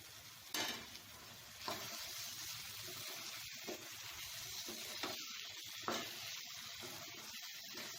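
Gongura chicken frying in plenty of oil, stirred after coriander powder, cumin powder and chicken masala go in; a steady soft sizzle runs throughout with occasional scrape-like stirring strokes, quiet and continuous with no talking.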